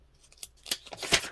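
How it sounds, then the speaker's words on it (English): A paper guillotine slices through junk-journal paper in a couple of quick swishing cuts, close and fairly quiet, with the loudest crisp cut at the end. "We will get out our guillotine for this one."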